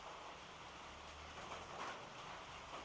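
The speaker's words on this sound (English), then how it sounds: "It's not storming, it's still raining" Rain falls steadily outdoors during the rainy season in the Philippines, a faint, even hiss of drops with no talking.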